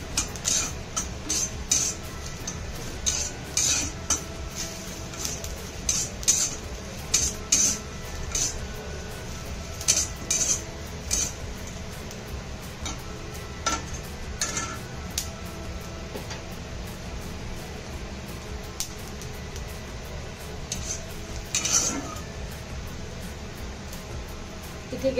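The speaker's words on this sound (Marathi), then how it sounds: "अगदी 1 मिनिट आपल्याला इथे अजून मिरच्या फ्राय करून घ्यायच्या आहेत" Green chillies and cumin fry in a pan, a steady soft sizzle with intermittent scraping clicks from stirring, heard close and fairly quiet throughout.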